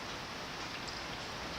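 Steady dense hiss of rain falling outside a driveway workspace, constant and even with no distinct drops or voices.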